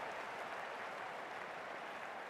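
Crowd applause in the Cricket 24 video game, a soft, even wash of clapping that carries through without a break and has no talk over it.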